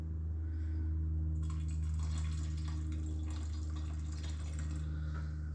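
Warm liquid poured into a ginger mead brew, a steady trickling splash that starts about a second and a half in and runs on to the end, close and moderate over a constant low hum.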